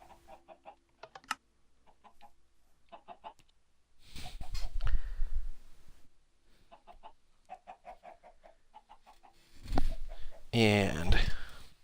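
Chicken clucking from a Minecraft video game, arriving in short bursts, with loud voice sounds and keyboard typing breaking in between the clucks.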